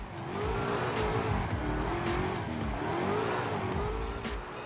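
A race car engine heard from a hood-mounted camera view in Forza Horizon 5, revving up and down in wavering pitch sweeps with faint tire squeal, loud and continuous.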